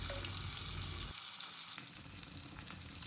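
Fish pieces fry in hot oil in a kadhai over medium to high flame, a steady dense sizzle with crackling pops throughout, close and fairly faint, with no talking.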